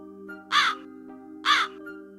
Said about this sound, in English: It's like this crow won't let me in for some reason.